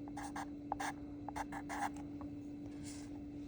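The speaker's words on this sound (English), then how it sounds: "now I'm going to go ahead and write out my equation" Pen or marker strokes writing out a math equation, a series of short scratchy bursts with pauses between them, fairly faint over a steady background hum.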